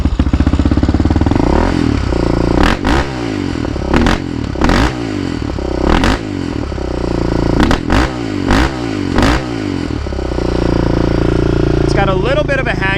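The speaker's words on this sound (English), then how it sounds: "It's got a little bit of a hanging idle." A Yamaha Raptor 660 ATV, rebuilt after being abandoned, idles high and uneven near the mic, its engine chugging with repeated clattering blips and slight revs over about thirteen seconds.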